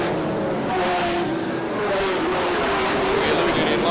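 Race cars circle a 3/8 mile speedway oval at Warnerton in a 50-lap final, engines whining and revving continuously as they pass, under a commentator's talk.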